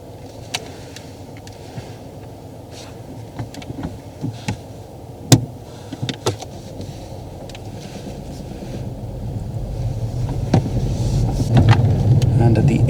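A car pulling away during a driving test, its engine note low and steady at first, then rising and growing louder toward the end, with scattered clicks and knocks inside the cabin.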